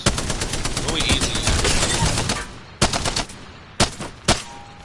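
An LMG machine gun firing in the video game Apex Legends, a loud rapid sustained burst that stops, followed by a few spaced single shots, with no one talking over it.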